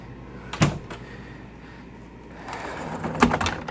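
A two-piece pocket door in a Renegade Super C RV slides and knocks twice, a sharp clack near the start and another near the end, with quiet room tone between.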